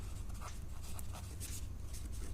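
Pen scratching on paper while answers are written out by hand, a steady soft scraping with brief strokes over a low constant background hum.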